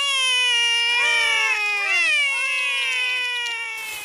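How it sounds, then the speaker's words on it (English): Cartoon kittens mew in a run of high, wavering cries, several rising and falling calls overlapping closely and loudly with no talk, the sweeping tones bending up and down like plaintive meows. "The kittens are Holly and Fleur."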